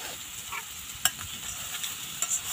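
Garlic powder fries over strong heat, giving a steady close sizzle with a few sharp clicks and scrapes of stirring throughout.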